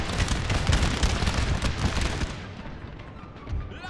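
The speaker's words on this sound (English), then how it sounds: "Taking some direct canister shots." Artillery canister shots in Napoleon: Total War, a dense, loud rattling hail of shot and crackling fire over battle noise, thinning out toward the end.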